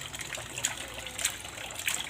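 Water trickles and splashes steadily into a tarpaulin-lined cement fish pond as it fills, with soft gushing bursts recurring every half second or so in an otherwise continuous, moderately close stream.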